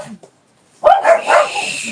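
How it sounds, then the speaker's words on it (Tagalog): Dogs break into a short burst of barking and yipping after a near-silent pause, several loud close yelps in quick succession. "yun yung nainip na yung mga aso"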